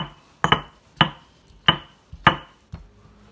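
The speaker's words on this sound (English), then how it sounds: "Take your molcajete smasher and get this smashed up." Avocado smashed in a stone molcajete with its pestle: five or six heavy, close thuds spaced about half a second apart, each with a brief gritty ring of stone on stone, and no one talking.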